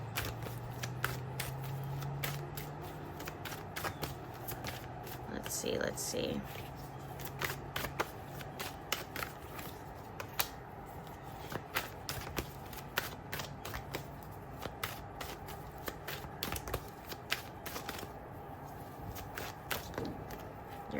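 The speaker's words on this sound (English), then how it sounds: "I'm going to be shuffling live for you." Tarot cards being shuffled live by hand for a card reading: a continuous papery rustle with scattered crisp slaps and flicks, close by, with a voice speaking briefly over it.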